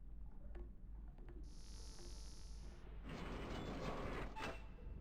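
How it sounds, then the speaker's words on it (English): A door opening in the stealth game Splinter Cell: Chaos Theory, a mechanical creak with a sustained whine, then a louder rolling slide, heard quietly with no talk. "And his door makes sound."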